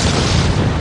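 A volcanic eruption blasting apart the north face of the mountain, a loud, dense, roaring boom that fills the whole short moment without letup.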